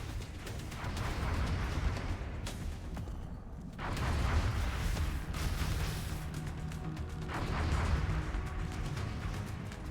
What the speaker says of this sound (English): Actually, can I sneak a Shredder rocket through there?